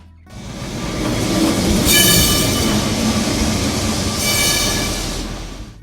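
Lisbon's line 28 tram rolls along its rails close by, a loud sustained rumble with two bright metallic wheel squeals rising over it, then fading slightly at the end.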